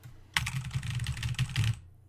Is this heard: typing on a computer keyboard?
yes